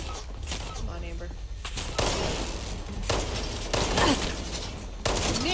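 A hunting rifle fires several sharp, loud shots at irregular intervals in the video game Fallout 76, over a constant bed of game noise.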